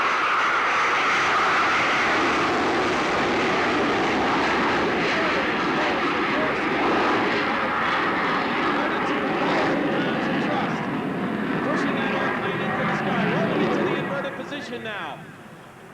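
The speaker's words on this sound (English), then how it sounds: "From this maneuver, he usually kicks in the afterburners and takes it straight up" Jet fighter at an airshow with afterburners lit, climbing straight up: a loud, sustained roar that holds steady and then fades as it pulls away, with a commentator's voice over it.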